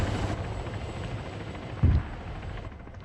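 Helicopter in the video game Arma 3, a steady low rotor drone with one brief heavier thump partway through, fading slightly toward the end.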